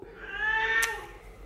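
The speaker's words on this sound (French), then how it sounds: "Mademoiselle qui miaule, mais qui s'en fiche de son calendrier" A single cat meow, a clear rising-then-falling tonal cry lasting about a second, close and fairly loud against a quiet room.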